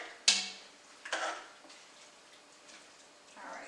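Spoon stirring garlic into vegetables in a pot for a red cabbage and black bean soup, with a sharp clink against the pot followed by a second scrape and softer stirring noises.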